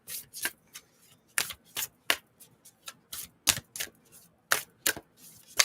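Tarot cards being shuffled by hand, with quick crisp riffling bursts that repeat in an irregular rhythm, close and fairly loud, with brief pauses between shuffles.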